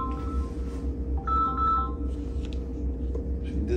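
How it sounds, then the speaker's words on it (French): Mobile phone ringtone going off during a French-language lecture on Islamic creed, a melodic electronic tone pattern repeating over a loud, steady low hum of the room. "j'ai oublié d'éteindre le son de mon téléphone"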